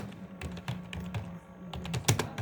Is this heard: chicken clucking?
no